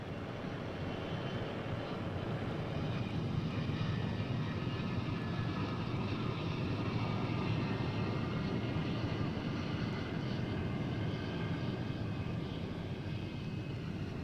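X-15 rocket plane, a sleek black research aircraft, in flight: a steady, loud, broadband engine roar that holds unbroken throughout with no talk.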